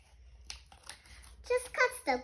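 Scissors snipping through paper during a kindergarten craft activity, with a few short, close cuts toward the end, while a voice and quiet talk sound throughout.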